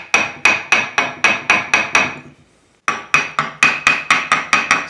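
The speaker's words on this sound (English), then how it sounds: "when you hear this tapping on this body" Rapid tapping on the solid body of an over-40-year-old vintage Gibson Les Paul Custom guitar, sharp knocks in a steady quick rhythm, a short pause, then another run of taps, close and loud with no talking.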